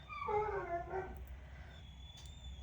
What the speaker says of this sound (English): And you hear my dog.